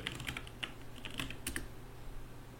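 Quick, irregular keystrokes tap on a computer keyboard, soft and near, with short pauses between clusters and no talking.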